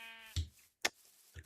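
Minecraft sheep bleating in the video game, a short wavering bleat followed by two brief clicky game sounds, close and clear with no talk.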